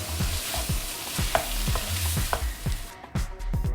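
Diced tomatoes cook in masala in a pan, a steady sizzle and frying hiss under repeated scraping stirs of a spoon, close and fairly loud, with no talking.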